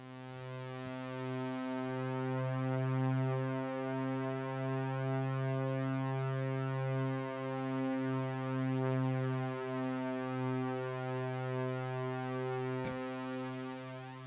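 A synthesizer holds a single C note for a long stretch, a smooth harmonic-rich tone whose pitch wavers slowly and gently, steady and alone with no talk.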